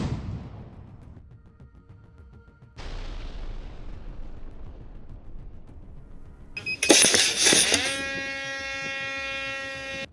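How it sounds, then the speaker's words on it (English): Russian artillery shell strikes on a Ukrainian infantry position, two heavy booming impacts that decay into rumbling, then a harsh crackling burst followed by a sustained ringing tone. "As a result of precise adjustments by the Russian artillery, the target was destroyed."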